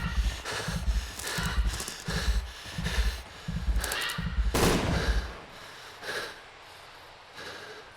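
Gunfire in Sherlock Holmes: The Devil's Daughter in a snowy setting: loud, rapid bursts of shots in quick rhythm for about five seconds, then a few sparser, fainter shots.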